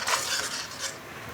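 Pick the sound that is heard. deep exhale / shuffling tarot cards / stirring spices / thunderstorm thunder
stirring spices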